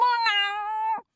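A narrator's voice imitates an angry cat's meow, a single drawn-out, strained yowl lasting about a second, close and clear with nothing else behind it.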